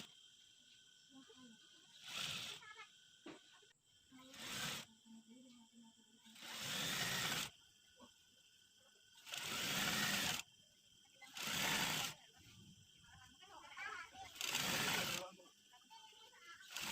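A sewing machine stitches a circular seam on a knit sweater in quick whirring bursts of one to two seconds, separated by quiet pauses and faint handling sounds.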